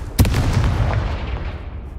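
A Confringo spell explosion in the video game Hogwarts Legacy: a single sharp boom at the start, followed by a rumbling tail that slowly fades over about two seconds.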